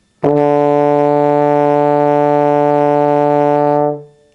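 A single sustained low E note on trombone rings steadily for about four seconds, then fades away, with no other sounds.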